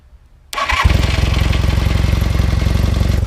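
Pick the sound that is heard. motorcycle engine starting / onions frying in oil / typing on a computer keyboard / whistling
motorcycle engine starting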